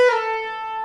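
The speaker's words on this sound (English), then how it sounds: "You can also slide down." A single electric guitar note slides briefly downward from the 12th fret, then rings out steadily and clearly on its own.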